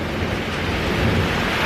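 Heavy rain pours down in a dense, even roar with a low rumbling undertone, continuous and close throughout.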